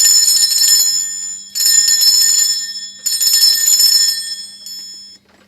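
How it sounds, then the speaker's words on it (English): A hand bell rung to cleanse a space, sounding in three long bright rings with shimmering sustained tones, each fading before the next, then a shorter final ring trailing off, loud and close with no talk. "I am going to be ringing this bell."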